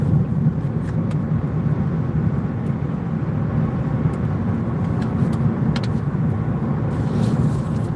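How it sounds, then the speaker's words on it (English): A car drives steadily along a road, a constant low engine and road rumble heard from inside the cabin throughout, with no talk over it. "I'm just letting y'all know I'm driving"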